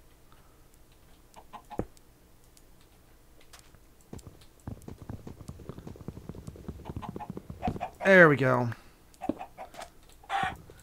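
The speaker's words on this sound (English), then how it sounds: "You blasted chicken." Chickens in the Minecraft video game cluck in short scattered bursts, one louder squawking flurry standing out, amid clicking and tapping game noises while someone talks briefly over them.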